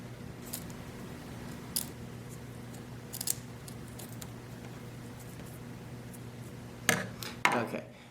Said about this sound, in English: I'm going to put the blade through the corrugation and snip